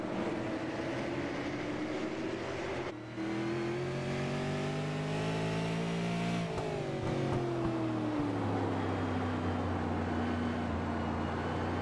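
Race car engine in a league race at Martinsville in a racing video game, a steady sustained drone that climbs and falls in pitch through gear changes, continuous and fairly loud with no talk.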